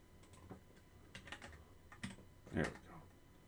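Keystrokes on a computer keyboard tapped in short irregular bursts, moderately close, with one louder clack near the end and faint room noise between presses.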